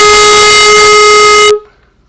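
A clarinet sustains a single steady B flat, played with the register key and thumb pinched together, a bright reedy tone with a slightly airy edge that holds for about a second and a half and then cuts off cleanly.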